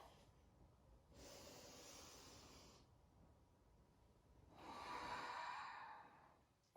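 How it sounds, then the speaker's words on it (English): During a yoga session, a person takes a long, close breath in and then a deeper, audible exhale through the nose, slow and soft with a quiet pause between, no talking. "Give yourself 1 more deep breath."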